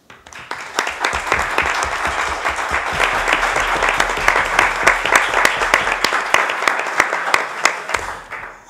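Audience applause at a tribute event, dense steady clapping from a crowd that swells and then fades out after about eight seconds.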